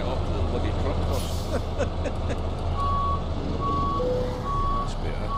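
A semi-truck in American Truck Simulator backs up to hook onto a trailer. Steady, evenly spaced reversing beeps ring over a low diesel rumble, with an air-brake hiss early on.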